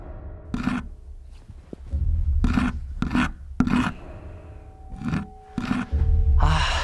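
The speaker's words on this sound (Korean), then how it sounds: "뭔가 긁는 소리가 들리는 겁니다" Harsh scratching rasps against what sounds like wood come in repeated bursts, some short and some drawn out, with quiet gaps between them.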